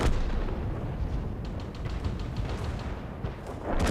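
Artillery fire rumbles in World of Tanks, heavy booming blasts and crackling bursts rolling continuously and loud with no talk.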